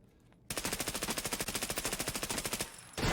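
Rapid automatic gunfire in the AMPED shooter game, a fast even burst of about two dozen shots that cuts off abruptly, followed by a brief lull and another loud hit.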